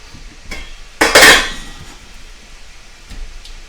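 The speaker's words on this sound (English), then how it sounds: "I'm going to throw that in the pan now." Chopped zucchini drops into a pan with a single sharp clatter and a brief sizzling rush, then quiet kitchen background with a few faint knocks.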